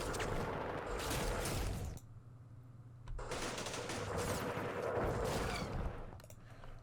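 Sustained machine-gun fire in the Campaign Series Vietnam war game, long rapid bursts of shots with a short lull in the middle, then more continuous rattling gunfire, moderately loud with no talking.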